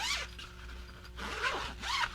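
A zipper on a pop-up dog kennel is pulled in several quick, close rasping strokes with short pauses between them.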